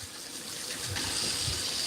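Leather knife sheath dipped into warm water, a steady close splashing and gurgling wash with a brief surge of sloshing midway, no talk.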